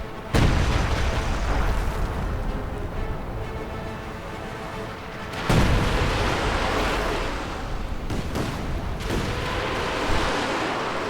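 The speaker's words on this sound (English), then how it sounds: "A bit of Katyusha fire." Katyusha rocket artillery firing in Company of Heroes 2: a sustained roaring, rushing barrage punctuated by several heavy booming bursts, loud and dense with no speech.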